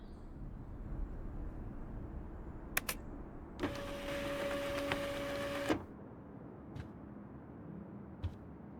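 A 3D printer in the Life is Strange video game whirs steadily for about two seconds with a tonal motor hum, framed by faint clicks and taps in a quiet room.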